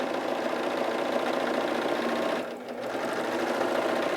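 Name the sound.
Husqvarna Viking Huskylock S-25 serger sewing a flatlock stitch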